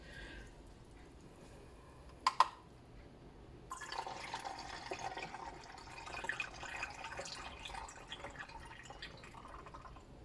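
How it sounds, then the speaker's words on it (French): Water poured into a homemade cleaning product mixture, about 200 ml added, a steady splashing pour that starts partway through and carries on to the end, quiet and close, preceded by a couple of sharp clinks. "Et je vais rajouter 200 millilitres d'eau."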